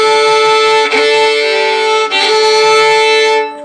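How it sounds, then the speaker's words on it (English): A bowed double stop on a string instrument with the bow pressing too hard into the D string, so the pair goes flat; a sustained, harmonically rich tone played alone, with two brief dips where the bow changes. "The bow digging in too much on the D string there and flattening the whole thing"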